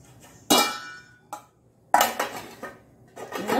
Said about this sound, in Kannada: ಈಗ ಇದಕ್ಕೆ ಮುಚ್ಚಳವನ್ನು ಮುಚ್ಚೋಣ.